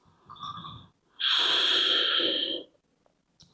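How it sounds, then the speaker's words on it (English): A single deep nasal inhale during a yoga flow, loud and close, with a breathy rush lasting over a second after a shorter softer breath, then quiet. "Deep breath."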